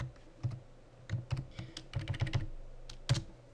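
Close, quiet typing on a computer keyboard: irregular clusters of light key clicks with short pauses between bursts, ending on a slightly firmer keystroke.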